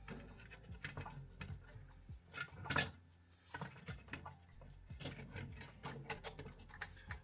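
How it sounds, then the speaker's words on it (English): A small screw being driven back into a plastic wire holder on an ESP32-based robot, faint scratchy turning and clicking strokes repeating irregularly at close range. "Screw this back in."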